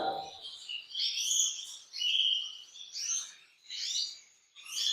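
Small female canary, agate red ivory mosaic, chirping close by in a series of short bright calls and twitters, with a brief low voice at the very start.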